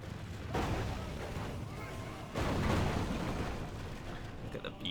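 Battering rams breach fortress walls in a Total War video game battle, deep booming impacts and heavy crashing rumble arriving in two loud surges amid continuous battle din.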